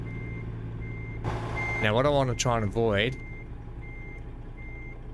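Truck reversing alarm in American Truck Simulator, beeping steadily in a regular series while someone talks over it as the prime mover lines up a trailer.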